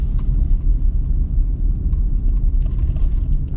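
A car coasting downhill on a slippery, wet road, producing a steady, loud low rumble of tires and engine with no clear breaks, close and continuous.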